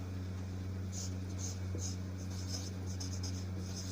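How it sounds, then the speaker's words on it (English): Pen writing on paper, filling in an applicant's name on a job application letter: a faint, repeated scratchy stroking in short bursts over a steady low electrical hum, with no talk. "We will write the name of the"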